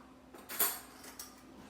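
Metal spoon handled in a pot of crab and shrimp boil, making a quick, faint clink and scrape followed by a couple of softer taps in a quiet kitchen.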